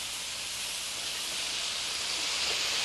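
Already cooked, peeled and deveined shrimp sauté in hot oil in a pan, producing a steady, bright sizzling hiss that holds evenly throughout, close and moderately loud with no talking.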